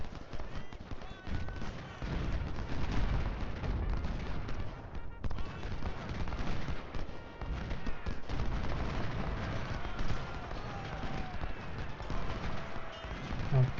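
Continuous battle din from Ultimate General: Civil War, with artillery booms and rolling rifle volleys layered into a dense rumble, while a player speaks over the steady combat noise.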